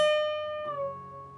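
A single clean electric guitar note on the B string at the 15th fret rings out, then drops in pitch partway through as the bend is released, sustaining softly alone.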